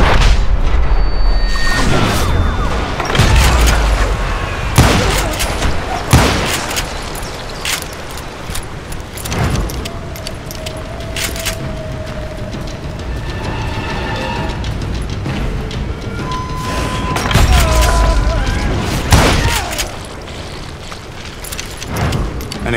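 Gunfire in the Western shooter Call of Juarez: Gunslinger: a string of sharp, loud blasts at uneven intervals, some booming, with a voice audible between shots.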